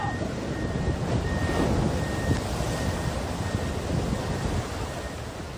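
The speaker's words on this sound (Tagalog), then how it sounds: "Sa gitna ng malalakas na hampas ng alon, pilit na lumangoy ang mga salvage worker na ito para makaligtas sa nagangalit na dagat." Strong waves crash and churn in a raging sea around struggling salvage workers, a continuous dense roar with wind buffeting the microphone, loud and close throughout.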